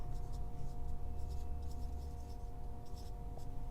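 A pen writes out a maths solution on paper, making faint repeated scratchy strokes in short bursts over a quiet, steady background hum.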